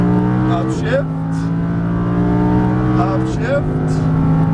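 A Lamborghini Huracan LP610-4 engine on a track, loud and close, revving steadily upward with two quick upshifts breaking the climbing tone, then pulling hard again.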